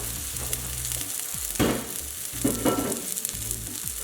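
Chicken cutlets sizzle and crackle steadily in a hot pan, a close continuous frying hiss broken by a few louder spattering bursts, with no talk.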